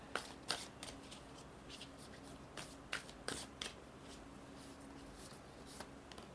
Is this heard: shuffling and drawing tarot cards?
yes